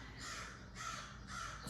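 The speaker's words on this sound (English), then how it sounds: "Sorry, there's a crow outside." Three loud, harsh caws from a crow outdoors, evenly spaced and close, with steady background hiss and no talking.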